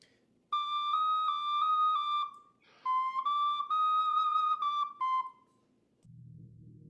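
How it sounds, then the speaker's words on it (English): A soprano ocarina plays alone, a low E flat with alternate fingering: a pure, whistle-like tone held in two phrases, each with slight pitch wobbles and brief breaks, then silence. "Another one would be the low E flat on soprano ocarina specifically."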